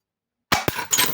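A glass bottle shatters after a shot: a sharp crash at onset, a second smashing impact, then scattered tinkling fragments, loud and close, all within about a second.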